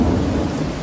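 Thunder rumbles low and continuous through a nighttime storm, a loud, steady roll with rain hissing beneath it and no voices.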